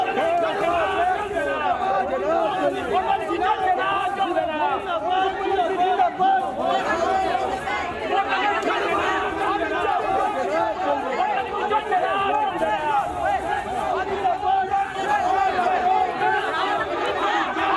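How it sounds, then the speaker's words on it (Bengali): Crowd of Trinamool party workers shouting 'go back' slogans at politician Adhir Chowdhury in Berhampur's Indraprastha area: dense, continuous hubbub of many voices at steady loudness. "পরিদর্শনের সময় অধীরকে রীতিমতো গো ব্যাক স্লোগান দেওয়া হয়"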